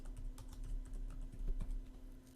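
Rapid typing on a computer keyboard while configuring a Salesforce lead app, close and clear, with steady irregular clicks and a low background hum.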